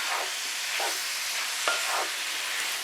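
A skillet of Cajun-style spices is stirred into the pan's moisture, a steady low sizzle with several soft scraping sweeps of the spoon at regular intervals and one sharper knock, close and alone with no talking.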